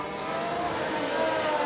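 Ferrari Formula 1 car engine in the racing game F1 Manager 2022 on the Singapore circuit, a steady high-pitched screaming drone held at constant loudness through a short burst, no voices.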